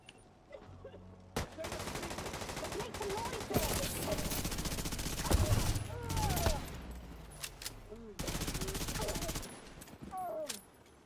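Loud bursts of automatic gunfire from The Division 2, long sustained volleys broken by short pauses, with a few short shots and clatter between them.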